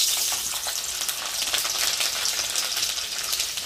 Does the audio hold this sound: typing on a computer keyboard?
no